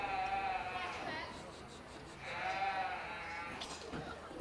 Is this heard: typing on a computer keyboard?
no